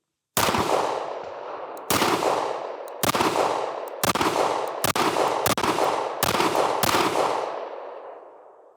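Seven sharp, loud shots from a Swenson Bobcat restomod 1911 pistol ring out at roughly one-second intervals, each followed by a brief echoing decay, with no speech.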